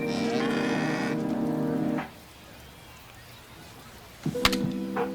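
A cow moos loudly and close for about two seconds in a sponsor spot in MLB The Show 25, followed by a quiet pause, then a thunk and another short moo.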